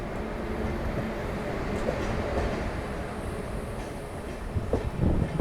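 Amrit Bharat Express train slowing on its approach near Bhusawal: a steady, loud rumble of rolling wheels and carriage noise with faint clicks, rising slightly with a few clunks near the end.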